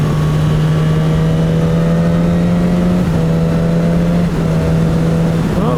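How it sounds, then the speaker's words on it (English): A 2019 Suzuki GSX-S1000 motorcycle accelerating hard through clutchless gear shifts, its loud steady engine drone briefly dipping at each of two or three quick shifts, heard from close on the bike over wind rush. "The clutchless shifts on the gearbox are very nice and easy. It just clicks nicely into the next gear."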